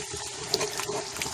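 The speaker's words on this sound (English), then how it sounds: "I'm going to add just a tad bit of the liquid that boiled the meat" Brief trickle of meat-boiling broth poured into a pan of tomato paste, a soft splashing pour with a few small drips, close and quiet, no talking.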